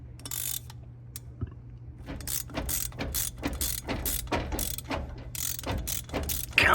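Ratchet clicking in bursts as a screw is turned to free a stuck rear brake drum on a 2002 Chevy Tracker, close and fairly loud with short pauses between strokes.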